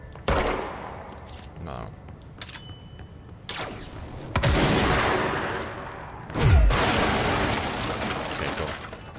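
Shots from a newly acquired weapon in the game Control, with a single blast, then two longer bursts of loud, close gunfire with roaring tails and scattered mechanical clicks; one brief spoken word cuts in.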